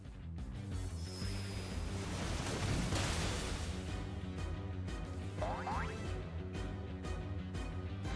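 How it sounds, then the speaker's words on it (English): Water attack from the Pokémon move Waterfall in Pokémon Brilliant Diamond: a rushing, noise-like surge of water over steady game music, swelling to a loud crash midway before settling. "So we'll Waterfall here."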